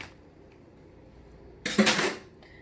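A quarter cup of a dry cereal bar ingredient pours from a bag into a pot: after a quiet stretch, one short, dense rattling burst lasts about half a second, then fades.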